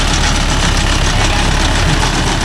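A Mahindra Yuvo Tech Plus 585 DI tractor engine idles steadily up close, a continuous low diesel rumble with an even, unbroken texture throughout.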